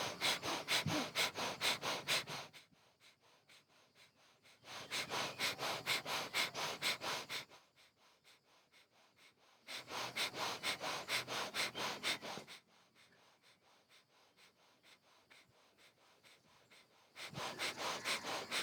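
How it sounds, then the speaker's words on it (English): Rapid rhythmic breath-of-fire breathing during a Kundalini yoga practice, quick forceful nasal pulses in bursts of a few seconds separated by quiet pauses, close and steady with no talking. "start with the breath of fire"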